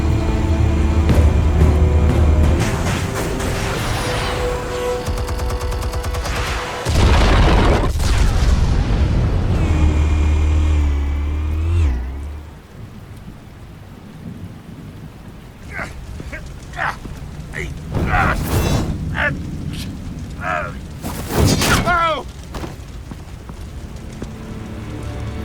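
An explosion in Batman: The Telltale Series lands as a heavy, loud boom with a rumbling roar that fades into lighter crackling debris and scattered impacts.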